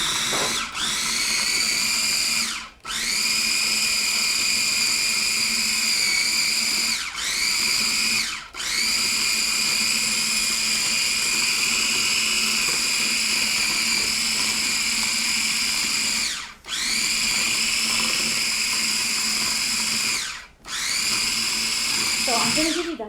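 A food processor whirs through beans for a Mediterranean breakfast taco, a loud steady motor drone running in long bursts with short stops and restarts between them.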